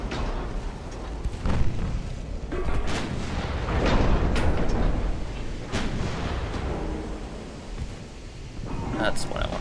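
Warship guns firing high-explosive shells in a naval video game, a dense rumbling barrage of heavy booms and blasts that swell and overlap through the stretch, loud and close with little pause.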